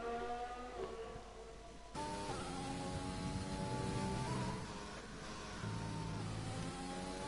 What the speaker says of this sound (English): Drops it down to 4th momentarily to get rotation on the car, up to 5th.